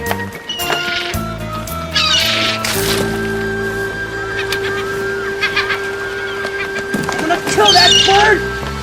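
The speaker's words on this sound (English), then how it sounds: "Kill that bird!" Shrill bird squawks cut in and out over a busy scene, with voices talking loudly throughout and a steady tonal hum underneath.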